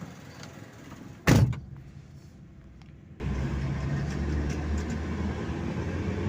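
A car heading toward a university in D I Khan: a single sharp door thunk, a few quiet seconds, then the engine rumbles up into a steady, low, continuous driving drone.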